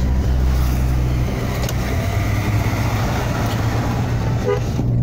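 A car on a road in Majalaya, Indonesia, passes very close, its steady low engine rumble loud and continuous throughout, with a brief horn-like toot near the start.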